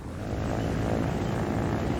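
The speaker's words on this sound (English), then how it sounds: "So the other helicopter engine is rotating in the opposite direction." A helicopter engine runs in the video game Trailmakers, giving a steady whirring drone at moderate level with no talk.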